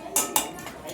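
A utensil clinks twice against a frying pan during a brief stir in a kitchen where an egg fry with onions is being cooked, two sharp metallic taps close to the microphone.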